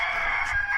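A farm rooster crows close by, a sustained loud call holding steady through almost a second with no speech over it.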